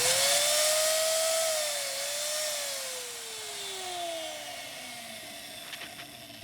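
An angle grinder with newly greased gears spins on its own, giving a steady high-pitched whine that sags and gradually winds down, ending with a few faint clicks.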